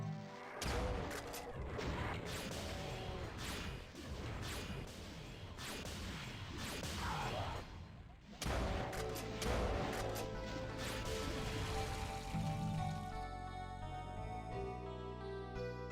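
A shotgun and plasma magic fire in a video game as a rapid, dense series of loud blasts, smashes and impacts, with a short pause midway and a softer tonal stretch at the end.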